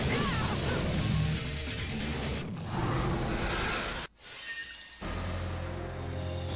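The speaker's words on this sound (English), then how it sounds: "Stop throwing glass in our faces." Glass shatters in the video game Devil May Cry 2, heard as loud crashing bursts amid dense action noise, with a brief drop to near silence before the clamor resumes.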